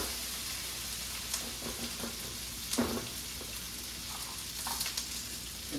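Potatoes fry in a pan with a steady, soft sizzle, broken by occasional scraping and clinks as they are stirred around, close and moderately quiet, with no talking.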